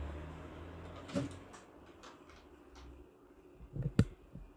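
The doors of a motorcycle cargo box are opened, with a few soft clicks and scrapes and then a louder latch clunk near the end, close by in an otherwise quiet space.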